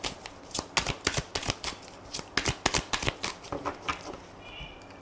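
An oracle card deck is shuffled by hand in a steady run of crisp riffling flicks and soft slaps, close and alone with no talking.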